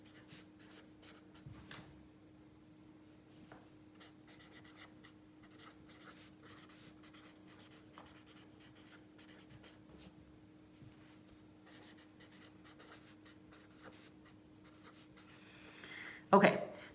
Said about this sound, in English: I'm gonna write it out so we can look at it without me having to move the book back and forth.